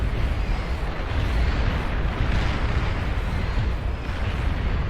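Dense, continuous rumble of missiles launching and detonating in the real-time strategy game Beyond All Reason, a steady barrage of overlapping booms and blasts with no clear pauses, loud throughout.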